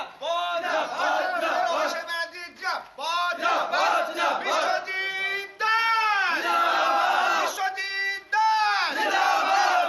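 A crowd chants and yells slogans in rhythmic bursts for Trinamool candidate Biswajit Das in Bongaon during a Lok Sabha election celebration. The voices are loud, close and continuous, with brief pauses between chant phrases.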